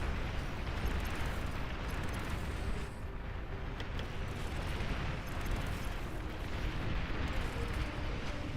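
An enemy commander explodes during a large real-time strategy battle in Beyond All Reason, within a sustained rumble of booms and gunfire-like bursts that holds at steady loudness throughout.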